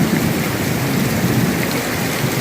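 Heavy rain roars without a break during a severe thunderstorm with high winds in Goose Creek, South Carolina, a dense, loud wash with low rumbling underneath and no voices.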